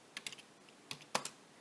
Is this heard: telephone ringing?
no